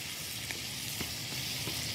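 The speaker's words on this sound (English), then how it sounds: "And I'm assuming this is all just going to get sauteed in here?" Ginger, garlic and onions sauté in a hot pan with a steady, close sizzle, broken by a few soft stirring taps.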